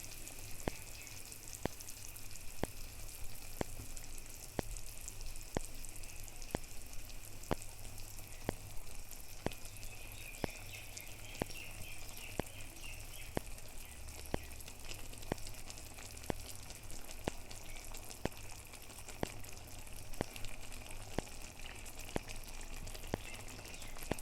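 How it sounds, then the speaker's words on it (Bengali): Small fritters of lentil paste sizzle steadily in a pan of hot oil, a continuous bright crackle punctuated by regular sharp ticks, with no voices. "আর যে ডালটা পেস্ট করে রেখেছিলাম সেই ডালটাকে ছোটো ছোটো এরকম বড়া করে এখানে দিয়ে দেবো উপরে উপরে।"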